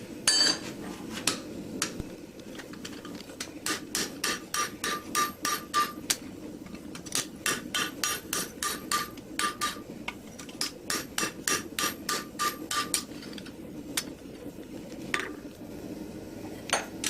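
A knife blade is hammered on an anvil to draw out and thin the edge: bright, ringing metallic strikes come in quick rhythmic bursts, pausing briefly between runs, loud and close with no talking.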